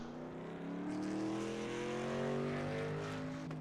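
A race truck in a VSpeed Contender Series event heads out onto the track, its engine note rising and climbing through the gears, steady and fairly close.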